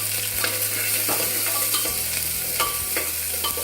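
Onions from a large onion fry in hot oil and whole spices in a pan, a steady sizzle broken by repeated scraping stirs of a spoon, close and alone with no talking.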